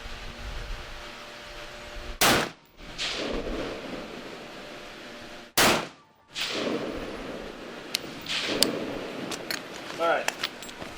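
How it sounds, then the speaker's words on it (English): Carbine rifle firing a five-round group at targets on an outdoor defensive training range: two loud, sharp reports a few seconds apart, each with a rolling echo, then lighter metallic clicks and rattles. "just shoot on the upper left bullseye. Let's get a 5-round group"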